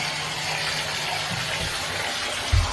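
Water from the spa outlet of an alkaline water ionizer flows in a steady, hissing stream, with a soft thump near the end.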